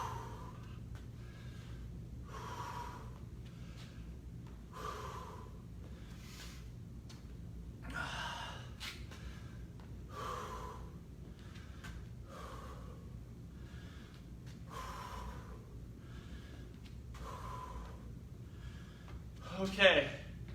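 A person breathes in slow, deep, audible breaths during a cooldown after a workout, steady repeated inhales and exhales at close range with faint background noise and a brief louder burst near the end.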